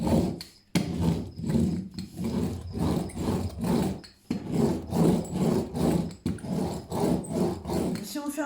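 A roller is pressed back and forth over a diamond painting, giving a steady rhythmic rolling rasp in repeated strokes with brief pauses, close and fairly loud.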